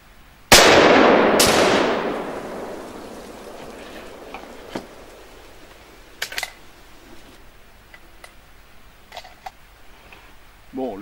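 Two sharp gunshots fired outdoors at a range with a Vector Optics Scrapper 1x25 enclosed red dot sight, loud and close, each followed by a long decaying echo, then fainter clicks and handling noises.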